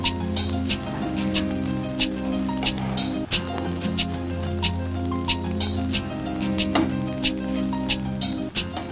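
Sweet corn cutlets fry in oil on a flat pan, giving a steady crackling sizzle with sharp pops and occasional metallic clinks throughout.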